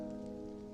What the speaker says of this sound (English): And the incessant pitter-patter of rain gets on my nerve.